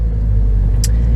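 A 2016 Subaru WRX engine rumbling low and loud from inside the cabin while driving, a steady deep drone with a brief high click near the end.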